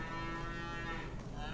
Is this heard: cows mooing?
yes